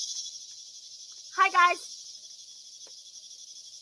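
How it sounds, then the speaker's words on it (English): A high, steady drone of cicadas buzzes continuously in the background, faint but unbroken, while a person briefly speaks a short greeting partway through. "Cicadas."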